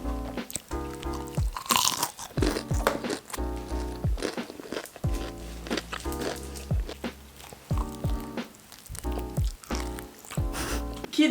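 Close, loud crunching bites and chewing of a Philippine-style chicken burger, with repeated crisp crunches at an irregular rhythm and wet mastication between them.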